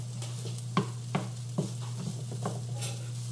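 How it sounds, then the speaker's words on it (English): Leftover salmon and cauliflower rice warming in a pan, giving a soft steady sizzle with a few light stirring scrapes and clinks against a constant low hum, no voices. "So I've got my salmon and cauliflower rice just heating through."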